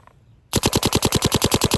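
Planet Eclipse Geo R5 paintball marker with a stainless steel SFR on the negative setting fires a fast string of about fourteen loud, sharp, evenly spaced shots close up, following a brief quiet pause.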